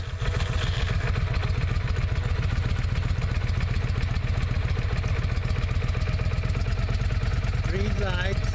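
A Yamaha XV500 motorcycle engine fires up and settles into a steady, loud, close idle with a fast regular pulsing thump; a brief voice comes in near the end.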